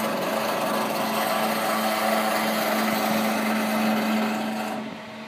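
Wood lathe spinning with a tool rubbing and cutting along timber: a steady, loud whirring hum with a constant tone, continuous for several seconds, then easing off slightly at the end, with no talking.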